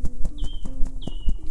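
Horses' hooves clip-clop in a steady, fairly close rhythm, joined by a couple of short high whistling tones and light background noise.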